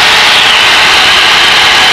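A Luscombe light aircraft's engine running at high power during a climb, a loud, steady, unbroken roar heard up close from inside the cabin.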